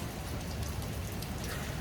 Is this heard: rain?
yes